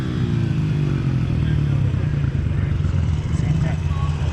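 A motorcycle engine runs close and loud, holding a steady, rumbling mid-pitched drone, while a person talks over it.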